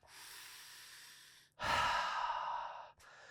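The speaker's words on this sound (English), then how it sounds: "Take a couple of deep breaths" Slow, deep breaths during a handstand workout: a long airy exhale, a short pause, then a louder, fuller breath close to the mic, ending with a brief softer one.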